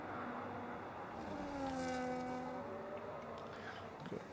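A Ferrari race car engine in a sim racing game sweeps past, its whine rising and then falling in pitch over a steady roar, with no voices.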